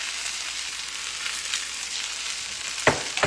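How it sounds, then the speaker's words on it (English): Dry rice frying in hot oil with meat in a pan gives a steady close hiss throughout, with a couple of sharper clatters of stirring near the end. "this might seem odd to just throw dry rice into a pan"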